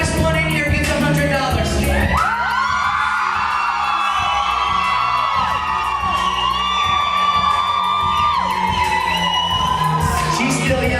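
A school assembly crowd of teachers and staff yells and whoops together in a sustained, loud roar, each trying to be the loudest, holding steady for several seconds.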